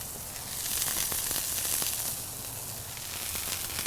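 Brioche burger buns toasting on a hot surface, a steady close sizzle with faint crackles throughout and no talking.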